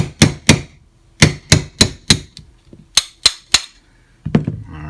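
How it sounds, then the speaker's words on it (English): Sharp metallic taps of a 3/32 punch and hammer driving the fire control unit roll pin out of a Jefe trigger on a bench block, about a dozen close, loud strikes in irregular pairs and clusters. "We're going to drive out the roll pin"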